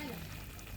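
Fish frying in hot oil seasoned with masala in a village-style kitchen, a steady close sizzle and crackle over a short moment, with a voice faintly present beneath.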